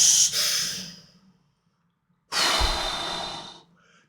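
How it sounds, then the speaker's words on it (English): Two long, audible breaths with a pause between, part of a breathing technique for moving chi through the body: a loud, close first exhale, then silence, then a deeper, forceful second breath with a low rush. "That's a breathing technique to move the chi through the body, to keep the energy flowing."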